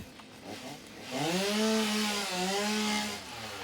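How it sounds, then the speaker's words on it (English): In the game Satisfactory, a chainsaw revs up after a quieter start and grinds through mycelia trees with a loud, sustained buzzing drone whose pitch dips and wavers as it cuts. "you can just use a chainsaw and cut them up with"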